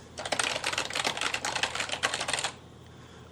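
Rapid typing on a keyboard, a fast, uneven clatter of key clicks close to the microphone for about two and a half seconds, then stopping into quiet room tone.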